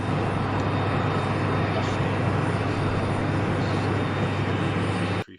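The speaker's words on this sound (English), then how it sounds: "here it is, just coming down onto the runway there" A passenger airliner landing on the runway at Heathrow, a loud, steady broadband engine roar close by that holds throughout, then cuts off abruptly at the end.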